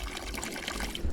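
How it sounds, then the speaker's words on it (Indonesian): Spring water pours steadily from a mountain spout, a close, continuous splashing trickle with no pauses or voices. "Dan ini kita udah nyampe sumber airnya seperti ini"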